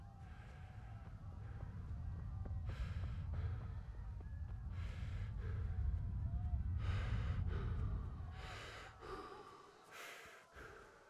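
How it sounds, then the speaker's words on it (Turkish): In the video game Kingdom Come Deliverance, a character breathes heavily after running out of stamina: a series of deep rasping breaths, several distinct inhales and exhales, fairly close and moderately loud, fading out toward the end. "Nefes alıp verişi nasıl ama? Stamina bitince."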